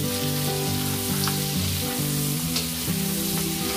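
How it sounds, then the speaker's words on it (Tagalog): Shrimp sautéing in a pan for pinakbet, a dense continuous sizzle with occasional stirring, close and loud throughout. "Patuloy lang itong igigisa hanggang sa maluto na ang mga hipon."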